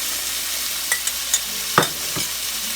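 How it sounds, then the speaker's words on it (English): Marinated mutton liver hits a hot pan with onions and masala and sizzles steadily in a close, bright hiss, with a few soft scrapes and clinks as it is stirred. "So in goes all that marinated liver."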